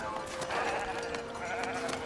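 Sheep bleat on a sheep farm in the video game Foundation, with a steady wash of ambient game sound and no speech.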